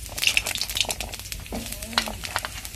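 Cubed potatoes drop into hot oil tempered with cumin seeds in a wok, setting off a steady crackling sizzle with a few scraping stirs, close and fairly loud with no talking.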